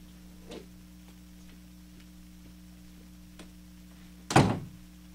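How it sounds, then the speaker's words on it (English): One door is shut with a single solid thunk near the end, after soft ticking and faint taps in a quiet room with a steady hum in the background. "I'm going to go over to the back and shut the door"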